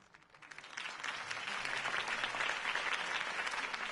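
An audience bursts into applause after a mayoral campaign speech in an animated cartoon, the clapping swelling quickly from quiet to a sustained, dense roar of many hands.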